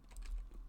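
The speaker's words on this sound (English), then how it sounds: "I'm just going to hit tab, the tab complete there" A single soft keystroke from the tab key on a computer keyboard while coding in RStudio, with faint clicks and low room hum around it, quiet and close.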